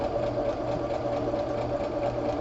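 A sewing machine stitching a small patchwork crumb square of fabric, its needle running at a steady, even buzz close by with no pauses.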